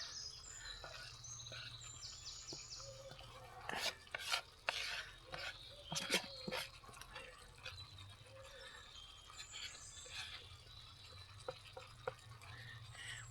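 Ramsons being stirred into cooked prawns in a pan outdoors, with a cluster of scraping, clattering stirring noises in the middle, set against a steady low hum and birds chirping nearby.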